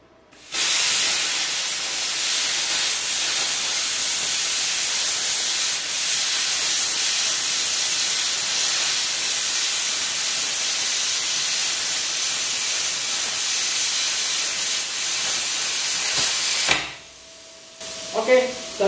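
Plasma cutter slicing through 6 mm thick steel at a slow pull, a loud, harsh, continuous hiss lasting most of the clip, then stopping abruptly, followed by brief faint talk.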